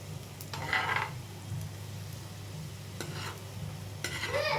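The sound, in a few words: stirring snacks frying in a pan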